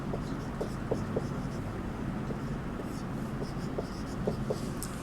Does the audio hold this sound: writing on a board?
yes